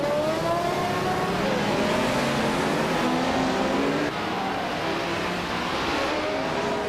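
Racing game cars, including a 1980 Ford Capri, drone and rev continuously, a loud, steady blend of engines rising and falling in pitch with no voices.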